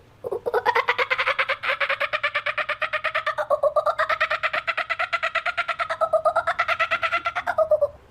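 A child imitates a kookaburra's call with the voice, producing a long, loud, rapidly pulsing cackle that rises and churns steadily for about eight seconds before cutting off.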